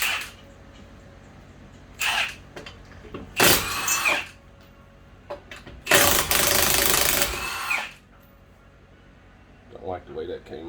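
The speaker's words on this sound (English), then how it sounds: "19 millimeter, remove your lugs." Lug nuts coming off the front wheel of a 2008–2020 Dodge Grand Caravan 3.6L with a 19 mm socket on a power tool, as two loud whirring bursts of around a second each with quieter clicks and handling noise between them.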